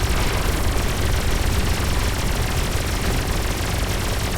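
Turret firing in the space combat game Everspace 2, a dense, loud, unbroken stream of rapid shots with a constant roar.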